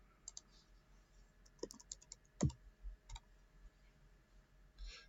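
Sparse clicks of typing on a computer keyboard during a C# programming class session, a handful of faint, scattered keystrokes with one louder clack, set against a quiet room hum.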